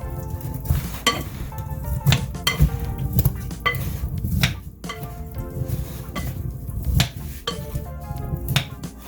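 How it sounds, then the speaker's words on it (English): Oil-coated potatoes stirred in a dish for a chicken and potato meal, giving a steady run of wet, slippery scraping and clicking against the dish, with sharp taps and knocks throughout and no talking. "we'll just mix those around to coat them"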